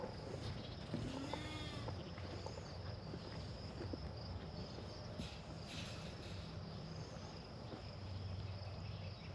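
Sheep and young lambs grazing on a farm, with a few faint, brief bleats over a steady wash of insect and cricket chirring in the open air.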